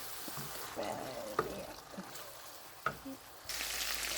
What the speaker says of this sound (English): we're going to just let this cook now and cook down these tomatoes